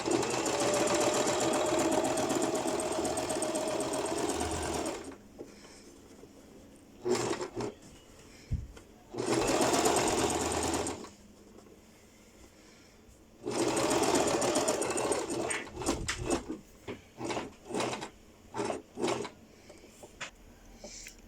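Sewing machine stitching a seam on a pleated skirt, running in long loud bursts separated by pauses, then short stop-start runs and clicks near the end.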